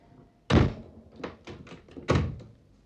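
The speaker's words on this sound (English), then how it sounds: "Now, shut the door." A door is shut with a heavy thunk, followed by a few lighter knocks and a second firm thud as it is locked, close and without talk.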